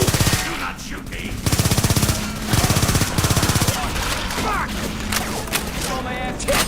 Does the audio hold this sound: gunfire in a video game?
yes